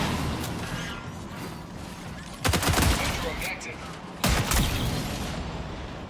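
Powerful guns fire in a video game, two sharp bursts of rapid automatic shots a couple of seconds apart, loud and close over a steady background hum.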